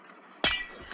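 Glass breaking in Minecraft: one sudden, loud shatter with bright clinking fragments halfway through, decaying over the next half second against a quiet background.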